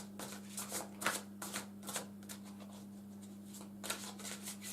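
Tarot cards are shuffled by hand in a series of quick, close riffling bursts with brief pauses between them, soft against a faint steady hum and no talking.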